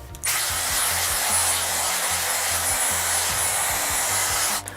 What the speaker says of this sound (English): So I blow dry my front hair to my face